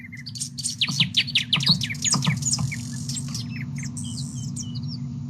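A green bird sings in a forest: a run of bright chirps and tweets in the first three seconds, then thinner, fainter calls over a steady low hum.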